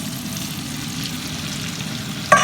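Calamari sizzles in a hot frying pan while a fish pastilla is being prepared, a steady close crackle that swells into a sharper burst right at the end, with no talking.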